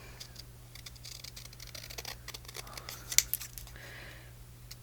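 Scissors snip the small decorative top off a paper piece for a coffee-and-chocolate themed junk journal pocket, a few crisp close cuts and paper rustles over a low steady hum.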